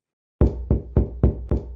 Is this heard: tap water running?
no